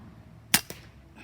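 A single sharp gunshot at an outdoor range, fired at a target 25 yards away, followed a moment later by a fainter echo or impact report, then quiet.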